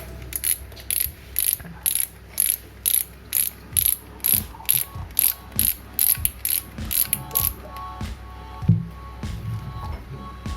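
A 2001 Shimano Ultegra 3000 fishing reel clicks in a long run of regular ratcheting bursts as its knob is turned and unscrewed, close and crisp, followed by a few softer mechanical handling sounds.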